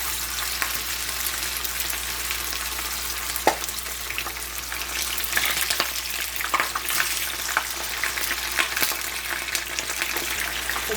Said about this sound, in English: I'm gonna put in my fish because the oil is hot already.